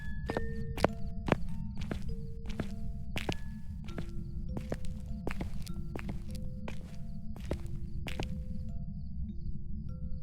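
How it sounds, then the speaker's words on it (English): Footsteps in the ghost-hunting video game Phasmophobia: a steady run of crisp, evenly spaced steps, each a short sharp tap, over a constant low background rumble. "All I hear is my own footsteps."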